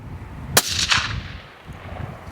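A single suppressed gunshot fired during a comparison of Whisper Pickle 30, Omega 300 and Hybrid 46M suppressors, a sharp muffled crack followed by a brief echoing tail, outdoors at close range.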